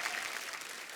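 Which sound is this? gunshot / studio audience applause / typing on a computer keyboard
studio audience applause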